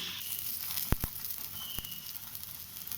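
Ghee sizzling on an aloo paratha on a griddle, a steady soft hiss and crackle with a couple of sharp pops, low and close.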